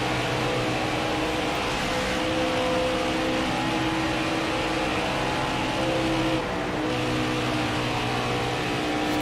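Race car engine droning in the NASCAR Heat 5 video game at Charlotte, a steady sustained roar with layered tonal hum, holding level throughout with a brief dip near the end.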